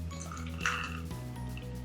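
Liquid sloshes briefly inside an oil and water sensory bottle as it is turned upside down, a short soft swirl over a steady background hum.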